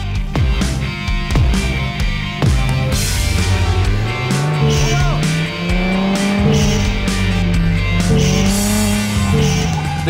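Cars race in a video game: loud engine whines rise and fall with gear changes, repeated tire squeals and skids, a continuous busy mix with no talking.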